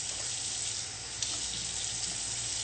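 Water added to a hot pan holding a block of tofu, a loud continuous hissing sizzle, close and steady throughout, with a single brief clink partway through and no talking.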